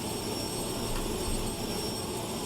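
A jet plane taking off from an aircraft carrier, a steady loud engine roar with a high whine that stays even across the whole stretch.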